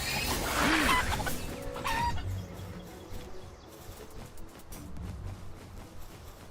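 A chicken-like pal in a Palworld-style game clucks and squawks loudly at first, then the calls fade into busy game noise and faint background sounds.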